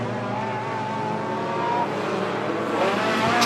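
Stock cars roar around a circuit on a last lap of a regional race, engines droning loud and steady and rising slightly as cars pass close, with no talk.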